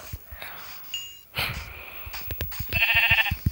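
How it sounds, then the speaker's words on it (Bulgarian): Sheep bleating in Minecraft, a couple of short synthetic bleats amid game sounds and soft footsteps, with a brighter tonal chirp near the end. "Овцата."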